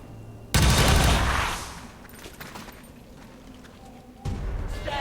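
Gunfire in the game XCOM 2: a loud sudden burst of shots that trails off into a rumbling decay, followed a few seconds later by another heavy blast onset, close and dominant.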